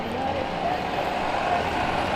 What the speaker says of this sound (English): there seems to be lots of buses clogging up the city centre